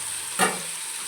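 Chopped tomatoes dropped into a pan of frying onions for bisi bele bath give a sudden loud sizzle burst that quickly settles into a quieter steady hiss as they are stirred.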